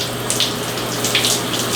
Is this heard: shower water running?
yes